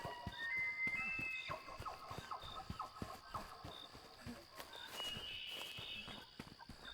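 Footsteps of a deer chasing the player in the found-footage horror game The Lancaster Leak, a quiet run of hoof-like steps with faint scraping and tonal in-game sounds around them, no talk.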